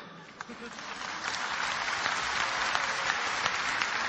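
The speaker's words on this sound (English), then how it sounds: "you're clapping. I like it." An audience claps at a lecture by Dr. Zakir Naik. The applause is dense and steady, swells after the first second and then holds, with no clear speech over it.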